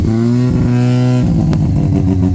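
A bridge-ported rotary engine in a wide-body Mazda RX-7 revs loudly at close range, its buzzing note rising and dropping through a couple of blips with no talking.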